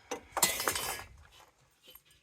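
Loose glass pieces from a dismantled 1000W light tower clink and rattle together in a quick burst, then a few faint lighter taps follow, close up with no talking.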